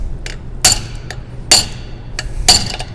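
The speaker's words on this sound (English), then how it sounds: "Now I'm going to take a punch and I'm going to bend that over" Hammer striking a metal punch to bend over a locking tab on a stub shaft nut: three sharp, ringing metallic blows spaced about a second apart with lighter taps in between, close and loud.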